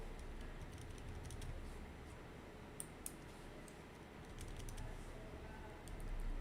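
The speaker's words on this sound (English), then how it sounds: "I've got the control key pressed down and I'm using my left arrow key to scroll back." A computer keyboard with the control key held while the left arrow key is tapped, producing a few faint, sparse clicks near a steady background hiss.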